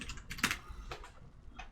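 Several quick keystrokes on a computer keyboard come in short uneven bursts, close and fairly quiet, with no talking.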